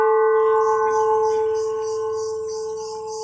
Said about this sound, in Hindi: ये तो घंटा है, तो घंटनाद क्यों ना सुने